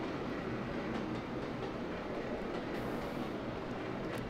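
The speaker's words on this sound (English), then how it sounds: "The locomotive runs and functions pretty nice." A locomotive runs steadily in the Trainz 2022 train simulator on the Mantiqueira Mountains route, with a continuous broadband rolling rumble and faint rail noise, even and unbroken throughout.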